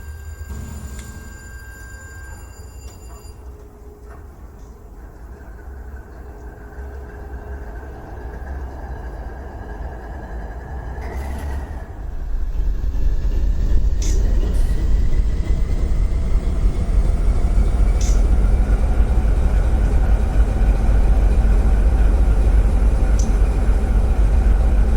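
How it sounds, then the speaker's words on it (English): A GE Dash 8 or Dash 9 diesel locomotive in the Run 8 train simulator starts up, a faint idle building into a loud, steady low rumble that holds to the end. "here's the Dash 8 or Dash 9 starting"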